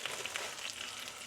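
Sourdough bread toasting in ghee in a pan, a dense, even frying hiss with faint crackles, close and steady with no talk.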